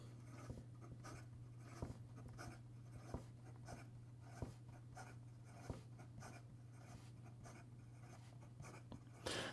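A Wancher Sekai Tsugaru Urushi fountain pen writes quickly on paper, with soft, quiet scratching strokes and small ticks over a constant low hum.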